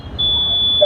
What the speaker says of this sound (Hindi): ये होने के बाद ये बीप साउंड होता